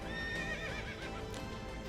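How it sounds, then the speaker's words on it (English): A horse neighs and whinnies with hoofbeats underneath, a game sound effect for the mount Bucephalus in the Fate/Grand Order mobile game, short, steady and moderately loud with no talk. "Why did that sound like a horse?"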